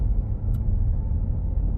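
A truck passing on a road nearby, a steady low rumble of engine and tyre noise that holds at an even level for a short moment with no talk.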